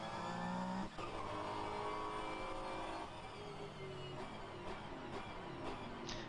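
LMGT3 Pro class race cars in a sim racing game at Portimao roar past in close company, engines revving and shifting with brief tire squeal, a dense continuous motor drone with one sharp dip early on.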